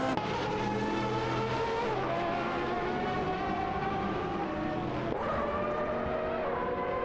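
Classic racing cars in a video game, several engines roaring together with shifting, overlapping pitches and an upshift, loud and continuous with no talk.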